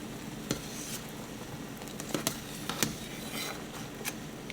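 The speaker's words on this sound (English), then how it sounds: "get y'all a spoon of some sort, and we're gonna skim this" Spoon skimming impurities off simmering caldo de res, a Mexican beef soup: steady bubbling, sizzling background with scattered sharp clinks of the spoon against the pot, no voices.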